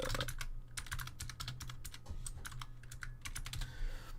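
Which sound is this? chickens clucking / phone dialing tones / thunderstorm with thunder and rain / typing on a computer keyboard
typing on a computer keyboard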